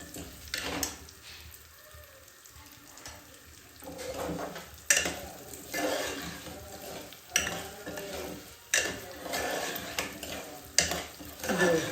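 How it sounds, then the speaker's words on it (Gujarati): Broken wheat (fada) sautéing in a pan for a Gujarati fada lapsi, with a soft dry sizzle under repeated scraping strokes of a spoon and occasional sharp clinks against the metal pan. "અને એનો કલર, ફાડાનો કલર બદલાય ને ત્યાં સુધી આપણે તેને આમાં સાંતળવાના છે."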